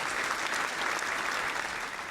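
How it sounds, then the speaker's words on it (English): Dense, even applause from a crowd at a rap battle event, continuous clapping held at a steady level throughout with no voices standing out. "Clap it up."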